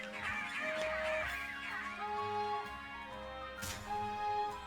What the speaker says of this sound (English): Squawking, squabbling, Squawkabilly.